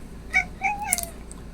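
A cat being carried for nail trimming lets out a few short, complaining meows in quick succession, fairly close, over a quiet indoor background with no talk.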